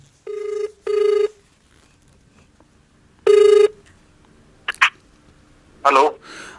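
Telephone ringback tone while a call connects: two short ringing bursts in quick succession, a pause, then a third burst, followed by brief faint sounds and a voice near the end.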